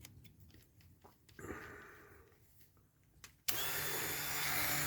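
Power tool fitted with a grinding disc on a metal Dinky toy Massey Harris tractor: a few quiet knocks and handling noises, then the grinder starts abruptly and runs loud and sustained to the end.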